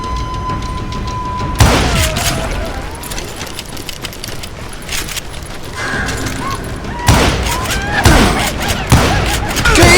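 Gunshots in the Western shooter Call of Juarez: Gunslinger, loud sharp bursts at about 1.6, 7 and 8 seconds standing out over a busy game soundscape with scattered quieter shots between.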